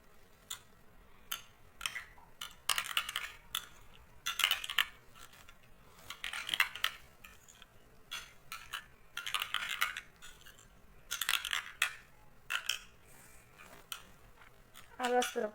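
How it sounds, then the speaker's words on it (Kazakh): Mayonnaise and tomato paste being stirred together in a bowl for pizza, with repeated bursts of utensil clinking and scraping against the dish in an irregular rhythm, close and fairly quiet between strokes. "Енді майонез бен томат пастамызды бір-біріне қосып, араластырып шығамыз."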